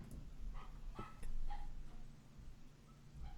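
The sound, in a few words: small dog barking in the background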